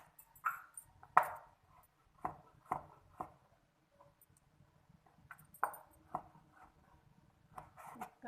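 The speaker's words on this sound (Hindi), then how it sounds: "अगला स्टेप, ये जो हम अब मशरूम्स काट लेते हैं" A knife chops mushrooms on a cutting board in a kitchen, a series of sharp close taps in irregular clusters with short pauses between them.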